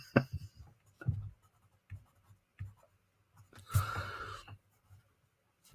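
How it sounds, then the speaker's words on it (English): A gray Crayola colored pencil shading on paper while sketching comic-book superheroes, heard as short, scratchy strokes in separate bursts with a longer rubbing stroke near the end, close and quiet, no talking. "I like using this gray pencil, this Crayola, because it lets me fake shading"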